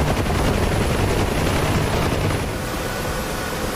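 A helicopter in the DCS flight simulator game, set in a North Sea oil rig rescue during a force 8 gale, throbs loudly and steadily with rotor chop and engine roar throughout.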